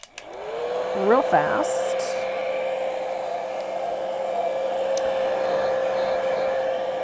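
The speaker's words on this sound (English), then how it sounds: "This is a handy rig, this heat gun. I have mine set to min, to the lowest setting" A handheld heat gun on its lowest setting blows hot air to dry painted ink, a steady close whooshing roar that runs for several seconds after starting up, with a brief spoken remark over it early on.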